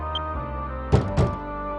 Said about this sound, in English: Who's that banging on the door at tea time?